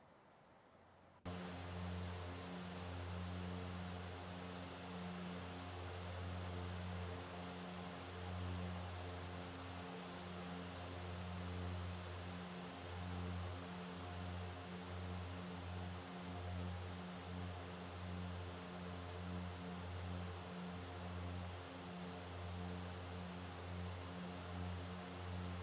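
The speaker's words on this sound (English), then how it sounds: "this is probably my second favorite prop plane in X-Plane" A FlyJSim Q4XP turboprop airliner in X-Plane 11 drones steadily, with a constant propeller and engine hum and a faint high whine that hold unchanged after a quiet start.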